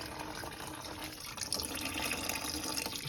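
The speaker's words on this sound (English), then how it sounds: "We got the coolant draining." Engine coolant draining from a car, a soft continuous trickling and splashing of liquid, faint and steady throughout.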